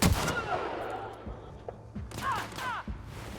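Gunfire in The Outer Worlds video game comes as a few sharp, scattered shots and thuds with a brief burst of shrill game sounds, set against a faint background and heard nearby.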